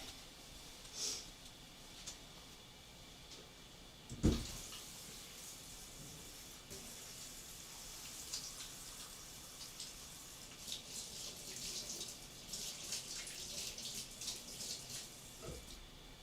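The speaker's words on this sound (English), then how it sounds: "Wash my hands" A tap runs steadily into a sink while hands are washed, a soft continuous hiss with a few faint knocks and clatters.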